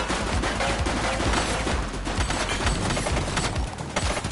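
Rapid bursts of gunfire from a police shootout in the video game The Precinct, loud and dense with overlapping shots rattling continuously and no talking.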